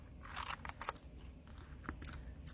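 Scissors rough cutting a paper figure, with quick close snips and crisp crunching of paper in an irregular run of cuts, fairly quiet, with no talk.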